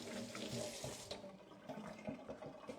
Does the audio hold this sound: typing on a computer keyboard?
no